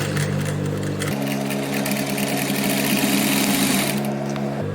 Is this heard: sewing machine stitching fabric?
yes